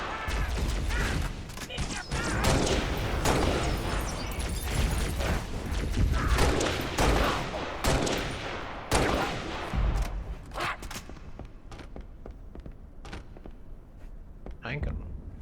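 Gunfire in the Halo: Reach video game on Xbox 360, Legendary difficulty, with dense rapid bursts and booming shots filling the first half, then thinning to scattered shots and mechanical clanks.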